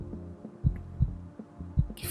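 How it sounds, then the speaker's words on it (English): Heartbeat sound effect from the video game Kimochii Classroom: three slow, deep double thumps, each a soft lub-dub, evenly spaced over a low hum, with a brief higher swish at the very end. "I feel my heart beating in my chest"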